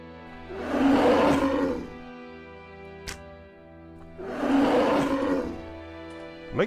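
Two long, loud growling roars from a bear in the video game Kingdoms, separated by a pause with a brief click between them, over a low background hum.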